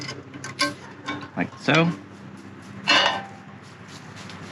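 A frying pan is set and locked into place on a stove while cooking a Spanish potato tortilla, giving a few short metallic clanks and scrapes mixed in with brief speech.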